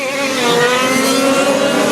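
A high-pitched engine of a 1/5 scale RC Formula 1 race car screams steadily at full power on a track during a French championship final, loud and close with a sustained rising whine.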